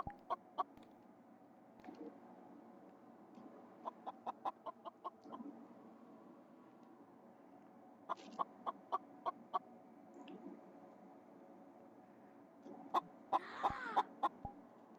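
A chicken in a video game clucks in scattered bursts of short, sharp clucks, with quiet gaps between the groups and a final louder flurry, all with no talking.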